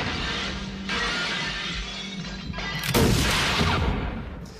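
Gunfire and shattering impacts in a Blade Runner film scene, a dense, loud, sustained burst with crashing breaks and a heavier blast near the end, close and unrelenting, no talking.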